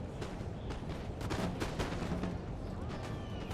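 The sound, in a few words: musket volleys in Napoleon Total War video game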